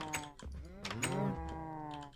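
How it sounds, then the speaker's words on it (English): Blocky cows in Minecraft moo in a drawn-out, wavering low call, with a second moo following, close and clear over a soft clicking like keyboard typing. "I love the tiny cows."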